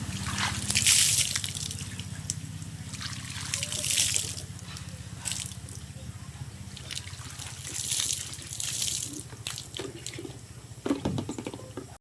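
Water splashes and pours steadily as a man bathes outdoors in the province, with running water and intermittent splashes close by throughout.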